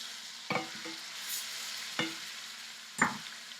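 Picanha steaks sizzle in a hot pan, with three sharp scraping bursts as the meat is flipped over a steady frying hiss.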